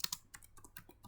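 A computer keyboard is typed on in a quick burst of sharp clicks, ending in an Enter key press, close and fairly quiet with no talking.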